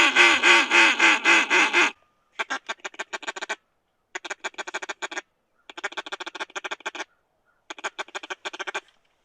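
A duck quacks near and loud, first in one continuous two-second run of harsh calls, then in four quick bursts of rapid quacks separated by short silences, with no one speaking.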